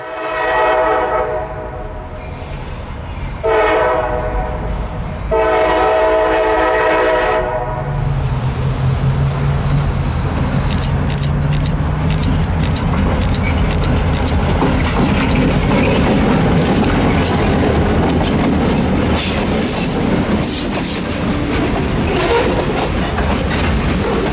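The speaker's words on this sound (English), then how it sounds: "the two locomotives eased their 6 cars out of some trackside forestry" Two CSX EMD diesel locomotives pull six cars past a trackside road, horn blasts sounding first, then a loud, steady rumble of engines and clattering wheels rolling by close at hand.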